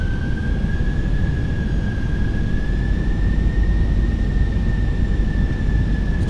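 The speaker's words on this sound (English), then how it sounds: "Those engines are working overtime today." Fenix A320 airliner engines in a flight sim, a loud continuous roar with a steady high whine through it, held unbroken for the whole stretch with no talk.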